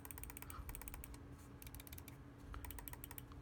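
Clicking on a Logitech G Pro X Superlight 2 gaming mouse: rapid, crisp, close-up clicks in quick irregular bursts, with a faint steady hum behind.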